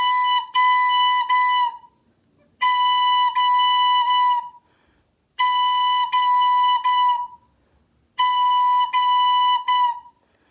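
Beginner's recorder playing the note B with one finger and the thumb, a bright pure tone in four tongued phrases of repeated notes separated by brief silences, loud and alone.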